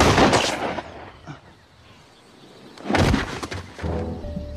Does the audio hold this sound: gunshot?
yes